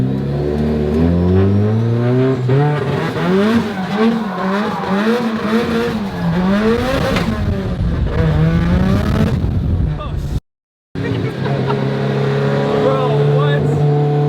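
A car spins donuts on a neighborhood street. The engine revs loudly and continuously up and down, with tire noise, and briefly cuts out near the end.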